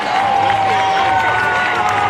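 Crowd at the 2024 NBC World Series championship baseball game between the Hutchinson Monarchs and Hays Larks cheers and applauds steadily after an inning-ending out, a dense, continuous roar with a sustained tone running through it.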